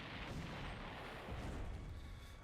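Missiles explode in the Sonic Incursion video game, a low rumbling boom that rolls on for a couple of seconds, heavy and muffled without any talking.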